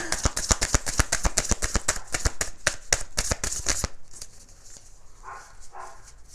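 Tarot cards are shuffled in a quick, crisp run of riffling snaps for about four seconds, then stop, leaving quiet with faint soft rustles.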